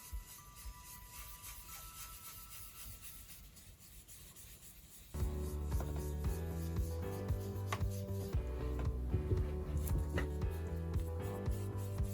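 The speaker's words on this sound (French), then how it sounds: "en appuyant sur la brosse, vous écrasez les poils de la brosse et vous diffusez plus de couleurs" Paint brush pressed down and rubbed across card, giving a faint scratchy scrubbing that turns into a denser, louder rasping rub partway through, close and without talk.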